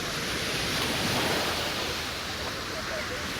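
Recorded Hawaiian ocean surf playing from an audio app, a dense, steady wash of waves and spray at an even, fairly loud level throughout, with no talk over it.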